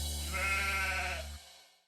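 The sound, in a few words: sheep bleating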